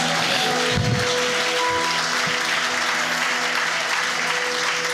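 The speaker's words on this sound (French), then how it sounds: "On acclame très fort le roi des rois." A church congregation at a Sunday service applauds loudly and continuously, a dense wash of clapping filling the room with a faint hum underneath.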